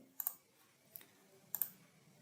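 Three sharp mouse clicks on an on-screen agree button, each a quick double tick, spaced evenly and close against near silence.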